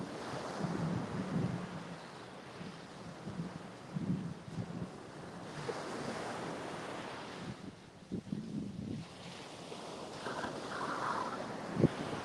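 Cold wind blows across the surf at Panama City beach, a steady rushing roar with breaking waves beneath and gusts buffeting the microphone, no voices.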